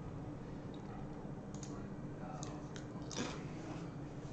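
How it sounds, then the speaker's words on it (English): Eating in the game Gone Home, a few loud, close crunches and bites breaking through a steady hiss, clustered in the second half, with no talking. "My very loud crunching."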